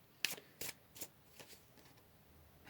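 Tarot deck shuffled by hand during a card reading: five or six quiet, crisp riffling bursts about half a second apart, close up with no talking.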